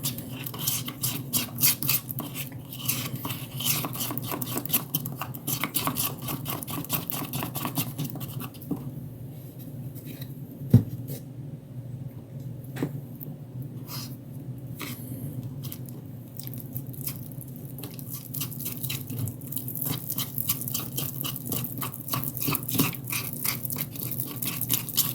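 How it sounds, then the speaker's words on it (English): Fine powder being stirred with a little water into a thick, peanut-butter-like paste, giving a steady, close, continuous scraping and squishing with small clicks throughout and no talking. "This powder's so fine, it just gets everywhere when you first start stirring it."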